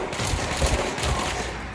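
Gunfire from the video game Control, a dense burst of rapid shots blending into a continuous loud fusillade with heavy low thumps throughout.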